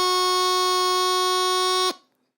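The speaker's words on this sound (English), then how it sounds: "So the F should sound like this." A bagpipe holds the top-hand F note, a bright, reedy sustained pitch over its drone, loud and unbroken for nearly two seconds and then stopping sharply.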